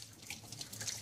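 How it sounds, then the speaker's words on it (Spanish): Tap water runs steadily into a sink during a hand-washing rinse, a continuous close splashing hiss with small flickers throughout and no voices. "Para el enjuague lo que utilizamos es el agua con los dedos hacia arriba"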